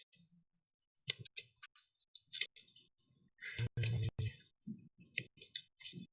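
A deck of cards for a Pandemic Legacy board game is shuffled quietly, with scattered soft clicks, a dense riffling burst in the middle and more light flicking after it, with no talk.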